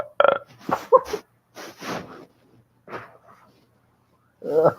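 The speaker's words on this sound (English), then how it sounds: "Did you hear me belching?" A man belches close up several times, with short guttural bursts mixed with brief throaty vocal sounds and pauses between them.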